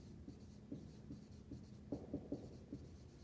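A marker writes in black on a board, producing faint, rhythmic squeaky strokes in short bursts, a few quicker taps clustered near the end.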